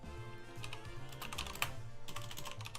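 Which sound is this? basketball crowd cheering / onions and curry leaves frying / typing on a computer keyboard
typing on a computer keyboard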